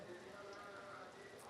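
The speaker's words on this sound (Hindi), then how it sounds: "यहाँ लगातार बारिश हो रही है।" Continuous rain falling at an outdoor student protest site in Ranchi, a steady soft patter of drops on surfaces, fairly faint and even throughout the short stretch.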